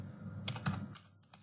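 A handful of keystrokes on a computer keyboard entering a search keyword, a short uneven cluster of clicks over a low steady hum, fairly close and with no talking.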